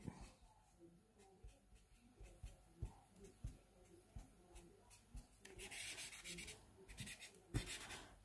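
A pencil drawing being rubbed out with an eraser on paper, with faint, close scrubbing strokes in an uneven rhythm that grow busier and denser toward the end, alone in a quiet room.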